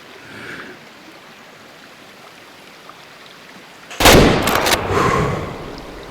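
A single loud, close 30-30 rifle shot is fired at a deer in the hunting game Way of the Hunter. It breaks sharply out of quiet outdoor ambience and leaves a long, rolling echo as it fades.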